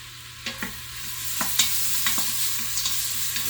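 Garlic and ginger frying in an Instant Pot for a chicken stir fry, a steady close sizzle broken by several distinct scrapes and taps of a utensil stirring, with no voices.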